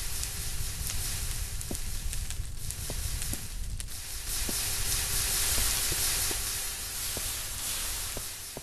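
A constant broadband steam hiss from a fire-heated steam engine aboard a steampunk military airship in Minecraft, with scattered faint clicks and ticks over the unbroken wash.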